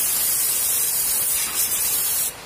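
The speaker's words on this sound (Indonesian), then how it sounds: "bisa juga langsung kita semprot tanpa harus disiram bensin" Close, steady aerosol spray hisses continuously onto a leaking motorcycle oil drain bolt for about two seconds, then cuts off; no talking.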